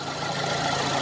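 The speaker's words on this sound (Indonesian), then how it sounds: "kipas radiator sini ikut hidup" Toyota car engine idling steadily with the radiator cooling fan running, a close, even hum and whir with no speech.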